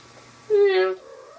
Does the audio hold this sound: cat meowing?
yes